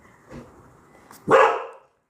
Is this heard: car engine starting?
no